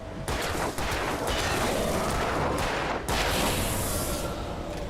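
Rapid gunfire in the video game Alan Wake, a string of loud sharp shots with dense crackling between them, continuous across several seconds.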